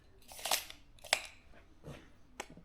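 Metal tubing for a trailer channel being cut, heard as several short, crisp snipping crunches at irregular intervals, close and moderately loud with quiet gaps between cuts.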